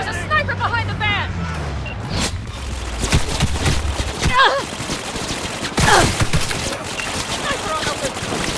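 Gunfire from a sniper and other weapons in Cyberpunk 2077 crackles in dense, overlapping bursts amid a busy wash of combat noise and raised voices.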